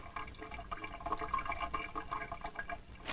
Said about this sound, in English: Look, there's another drip.